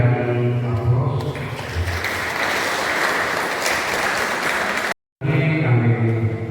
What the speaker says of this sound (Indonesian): Sekali lagi kami berikan aplaus.